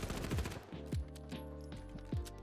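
An automatic weapon in the shooter game The Finals fires in short controlled bursts, each run a rapid chatter of shots with punchy low thumps roughly every half second, fairly faint and with no voices.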